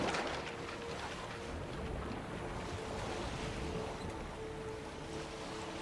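A boat sails across water at dusk in Velen in The Witcher 3, with a steady wash of waves and wind rushing around the hull, continuous and fairly loud with no talking.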